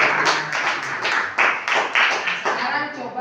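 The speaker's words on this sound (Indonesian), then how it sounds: "patut kita kasih aplaus dulu." A classroom group claps together in a burst of uneven hand claps, fairly close, with the clatter pulsing in waves and thinning toward the end.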